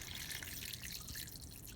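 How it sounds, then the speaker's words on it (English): Water streams and trickles steadily into a pot holding peanuts and smoked turkey necks, a soft continuous pour close by with no talk. "Before I add my seasonings, I'm going to add my water."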